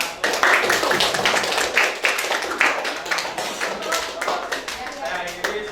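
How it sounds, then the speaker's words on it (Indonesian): An audience applauding a group, sustained dense clapping from many hands throughout, fairly loud and close, with voices mixed in. "Oke, cukup kasih aplaus buat kelompok."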